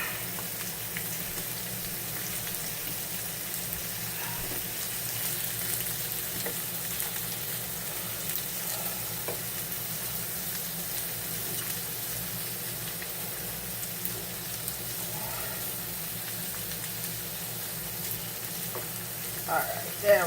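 Shrimp sizzle steadily in a hot pan for linguine, a continuous bright frying hiss with small crackles throughout, close and even, with a clatter near the end.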